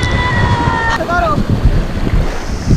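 Ocean waves break on a beach as a steady, close, rumbling wash, with heavy wind buffeting the microphone and a brief high whistling tone near the start.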